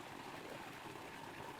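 Waterfall near Searchlight, Nevada, pouring in a steady, even rush of falling water, heard alone at moderate distance with no voices.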